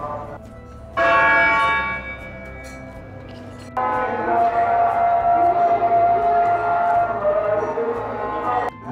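A 122-year-old clock tower bell in Peshawar chimes twice, the second strike ringing on in a long, loud, shimmering decay that fills the rest of the moment.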